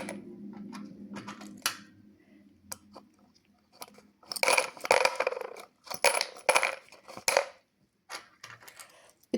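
Two-euro coins drop into a collection container in clustered bursts of jingling, clattering metal, starting with a few isolated clinks and building to dense rattling pours, close and loud with no speech.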